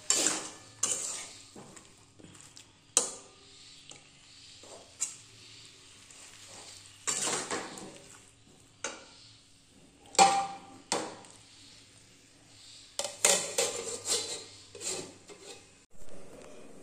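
A soybean curry with tomatoes being sautéed in a pan at home, with a spoon scraping and clattering against the pan in irregular bursts over a faint sizzle, fairly quiet and without voices.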